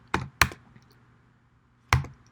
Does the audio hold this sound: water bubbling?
no